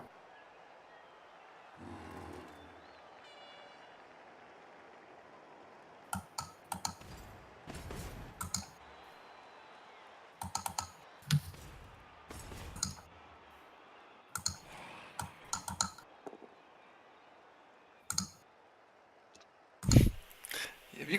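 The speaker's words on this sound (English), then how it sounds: "I think it's a mechanical keyboard" Mechanical keyboard clicking in scattered bursts of sharp keystrokes, fairly close and moderately loud, with quiet background hum and a louder thump near the end.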